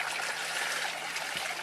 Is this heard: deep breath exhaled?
no